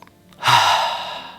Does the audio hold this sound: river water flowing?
no